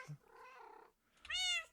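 Cats in a video game meow loudly and close, with a faint low voice first and then a long, bright, harmonic meow.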